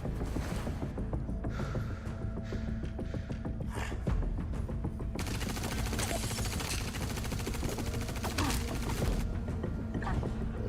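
Bolter gun fire in the game Star Citizen: dense, continuous mechanical bursts and clattering shots that swell louder partway through, with loud crowd ambience throughout.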